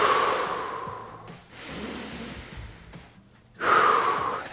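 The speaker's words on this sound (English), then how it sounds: "Let's take 5 deep breaths" Deep yoga breaths at an outdoor city beach, a loud inhale, a softer exhale, then another strong breath, close to the listener with no talking.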